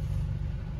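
Steady low exhaust rumble from a 2016 VW Golf 7 GTI fitted with a single stainless steel straight-pipe silencer, idling or running evenly with no talk.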